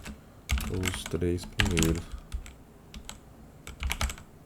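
Rapid keystrokes on a computer keyboard while entering code in a Colab notebook, crisp irregular clicks spread through the moment, with a Portuguese-speaking voice talking over the first half.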